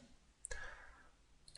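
One quiet mouse click on an edit button in a website admin screen, a single short tap over faint room noise.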